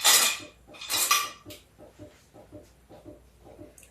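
A knife peels mango skin with a few sharp scraping strokes up close, followed by a run of soft, evenly spaced clicks and taps.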